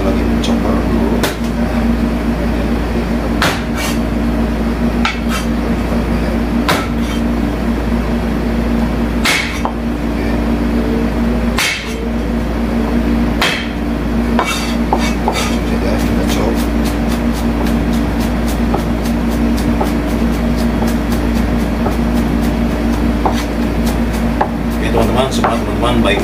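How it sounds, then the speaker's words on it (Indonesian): A knife chops garlic and onion on a board, a run of sharp, uneven close taps that speeds into a rapid flurry near the end, over a steady low background hum. "Ini saya lagi mencoper dulu."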